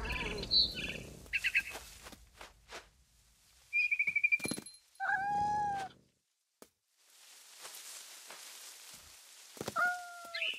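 Cat from the game What Remains of Edith Finch, giving a few short meow-like calls among rustles, thumps and chirping bird calls from a barn swallow, with quiet gaps between the sounds and no talk.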